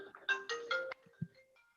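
A phone rings during a meeting with a short electronic melody of several bright tonal notes, fairly faint, then fades to scattered quiet sounds.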